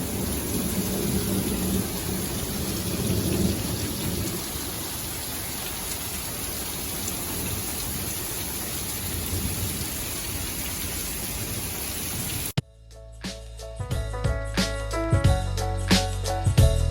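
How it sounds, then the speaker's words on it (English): Intense rainstorm with thunder at a floating tiny house in Boca Grande, Florida: dense, loud hissing rain with low rumbling throughout, cutting off abruptly near the end into different, unrelated sounds. "This storm is intense."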